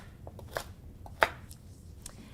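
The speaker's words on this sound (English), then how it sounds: "And slicing up our carrot." A knife slices a carrot for fermented vegetables on a cutting board, giving a few crisp, sparse chops, one louder than the rest, close and quiet with no speech.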